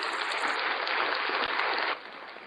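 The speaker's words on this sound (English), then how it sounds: "I got to give you applause for that." A short burst of applause plays loudly for about two seconds and then cuts off abruptly, as on a radio show.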